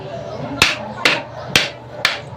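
Four sharp, evenly spaced hammer taps ring out on a 4x3 reducer pipe fitting, each a crisp metallic strike with a short decay, close and loud over a low background hum.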